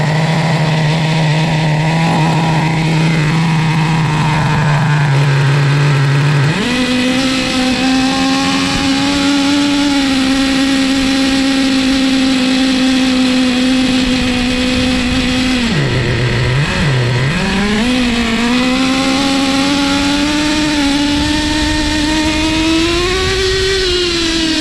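Restored classic Traxxas T-Maxx nitro RC truck with a Chevy Maxx 3.3 engine running hard: a loud, close, buzzing high-revving whine that steps up in pitch, dips briefly, then climbs again, continuous and alone.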